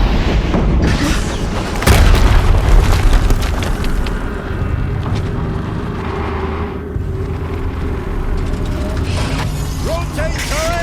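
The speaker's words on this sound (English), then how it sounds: "Another explosion." A loud, dense explosion in the video game Horizon Zero Dawn on PS5, a heavy boom with rumbling debris and mechanical clatter that swells early and then stays steady with game noise, while a voice talks over parts of it.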